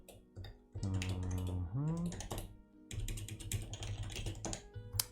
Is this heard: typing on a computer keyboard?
yes